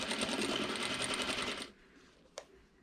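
A sewing machine stitching a homemade wine bag, running in a steady rapid whir for over a second and a half before stopping, followed by a brief click, nearby and with no talk.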